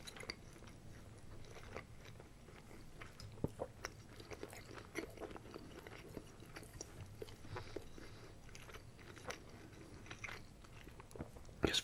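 Close, steady chewing and biting on a tender chunk of beef braised in a soy-based stock, a Filipino dish, with soft wet mouth sounds and occasional sharper crunchy clicks throughout, no talking.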